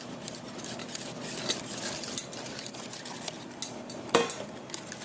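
Egg yolks stirred into dry ingredients for a chocolate cream pie, heard as scraping clinks of a utensil against a bowl with a few sharper knocks, close and alone.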